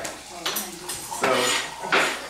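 Garlic and ginger are chopped for energy soup, with a few close knocks and scraping clatters of a knife or utensil against a cutting board or bowl, spaced unevenly.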